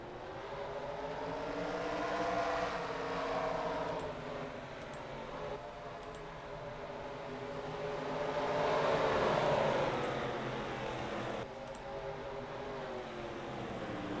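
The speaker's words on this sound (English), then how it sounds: "Drivers, start your engines!" Several race car engines start and rev at a mock race, a sustained broad engine roar swelling and fading in waves over about fourteen seconds, with no voices.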